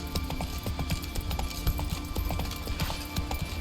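Rhythmic clip-clop of a horse's hooves during riding at night in The Witcher 3: Wild Hunt, a quick even gallop close by, loud and continuous, with faint ambient game sound underneath.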